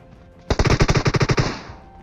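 A loud burst of rapid automatic gunfire in a shooter video game, about a dozen sharp shots in quick even rhythm, starting abruptly after quiet and trailing off into a short echo with no speech.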